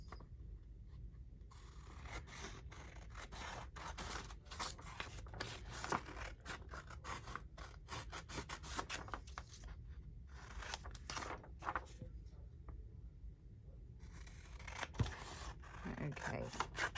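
Scissors cut out paper craft tags for journal spots, a close run of rapid snipping and scraping strokes that keeps going with only brief gaps.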